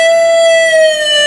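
An electric guitar note bent a whole step on the 15th fret of the B string, held as a bright sustained tone that eases back down as the bend is released, loud and alone.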